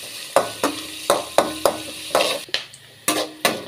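Sliced onions with garlic and dried red chilli fry in a pan for a gourd curry, with steady sizzling broken by repeated scrapes and stirs of a spoon against the metal, loud and close, no voices.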